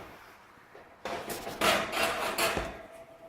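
Seasoned cast iron pans pulled from a hot oven, a scrape and clatter of heavy metal against the oven rack building to a louder rough grating, close up with no talking.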